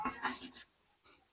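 Pen scratching briefly on paper while an equation is written by hand, a few soft strokes close by followed by a short pause and one last scrape.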